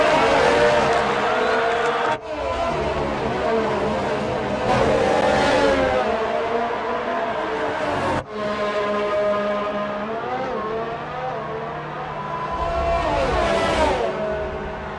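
Williams F1 car with a Mercedes engine racing at Shanghai in the F1 2019 video game, a loud, continuous high-revving engine whine with sharp gear-shift drops and pitch sweeps, close and dominant throughout.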